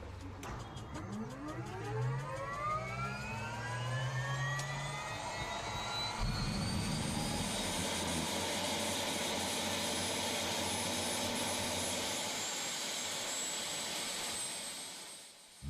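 A small aircraft engine roars continuously during a flight over red panda country in Sikkim, the pitch sweeping upward and then holding a loud, steady drone close by, with no talk.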